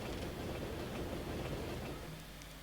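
Train in the Amiga game Dizzy, a steady low rumbling clatter that rolls along evenly, then eases slightly toward the end, fairly quiet with no voices.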